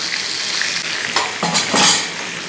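Chicken pieces sizzling and frying in a kadai, with stirring and scraping of a spoon against the pan that flares up in a few short bursts over a steady hiss.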